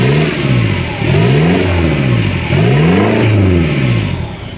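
A Mercedes engine revving hard through a straight-pipe hoodpipe, loud and close, with repeated rising and falling rev sweeps that swell, drop back and surge again throughout.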